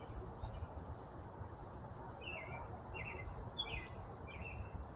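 Small birds such as chickadees chirping near food, heard as four or five short, faint high tweets spaced out over steady outdoor background noise.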